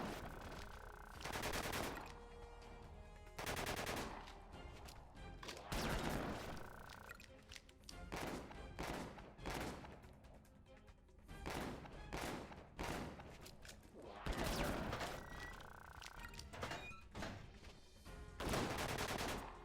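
Repeated heavy gunfire bursts from a shotgun and other weapons in the Disaster: Day of Crisis video game, loud blasts recurring every second or two over a continuous rumbling game soundscape.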